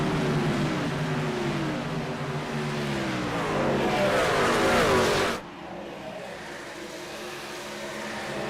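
Racing trucks roar around the Homestead track in a truck series race, engines rising in pitch as they pass close, then the loud roar cuts off abruptly to a lower distant drone.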